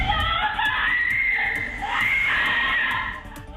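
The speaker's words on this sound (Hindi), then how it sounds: "खुद को बचाने के लिए लड़की चिल्लाने लगी" A girl screams in CCTV footage while a robber on an Activa scooter tries to snatch her mobile phone on a street, producing a loud, sustained high-pitched cry that rises and falls over background noise.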